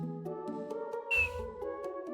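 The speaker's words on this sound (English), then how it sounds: "That was a whistle, probably shouldn't do it" Short rising whistle from the video game Digimon World, a single bright tone lasting a moment over steady game music.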